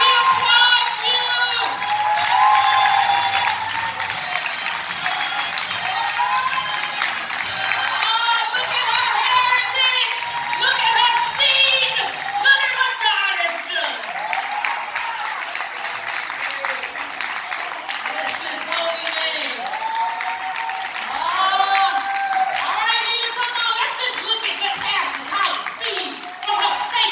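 A church congregation applauds and cheers for a woman of God at a family covenant service, sustained clapping and shouts filling the room, with children's voices and speech mixed throughout.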